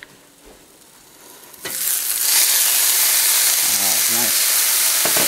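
Onions and peppers fry in butter, a quiet start giving way to a loud, steady close sizzle, with a brief spoken remark over it.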